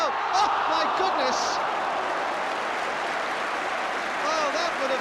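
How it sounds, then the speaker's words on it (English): Football crowd in a stadium applauding and cheering after a spectacular goal, a broad steady wash of clapping and voices at moderate distance throughout, with commentary voices over it. "The crowd everywhere are applauding the quick thinking of Chris Jones."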